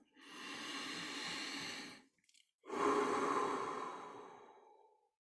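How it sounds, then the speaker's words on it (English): A slow, deep breath drawn in and then let out, two long airy rushes split by a brief pause, close and quiet with nothing else around. "let's very simply just take in a very deep breath"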